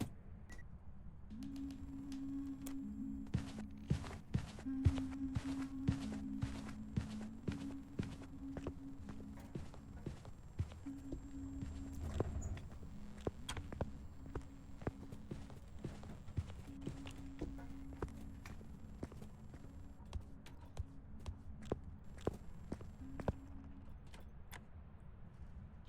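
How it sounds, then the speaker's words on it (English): Footsteps of a ghost in the horror game Phasmophobia, a steady run of faint, evenly spaced thuds and clacks over a low electronic hum, quiet and somewhat distant throughout. "Okay, so I was listening to the footsteps there."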